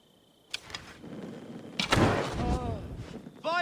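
Enemy gunfire in Assassin's Creed Odyssey: a few sharp impacts and bursts of combat noise, with a loud crash near the middle, under shouting and other game sounds.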